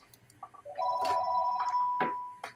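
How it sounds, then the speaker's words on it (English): A telephone rings with a sustained electronic bell tone in short bursts, fairly close and clear, with a few clicks and knocks around it and no talk. "Phone's ringing"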